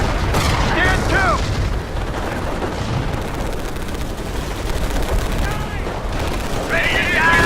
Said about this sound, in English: Taking automatic fire!